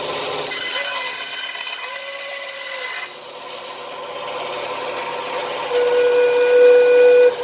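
A homemade sawgrass pan flute is blown on a B flat note, producing a breathy sustained tone heard twice, with an airy hiss between the notes.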